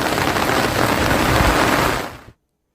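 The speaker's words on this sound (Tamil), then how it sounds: "திருவாரூர் மாவட்டத்தில் கடந்த ஒரு வாரமாக கனமழை பெய்து வருகிறது." Heavy rain in Thiruvarur district pours in a loud, dense, continuous roar for about two seconds, then cuts off abruptly to silence.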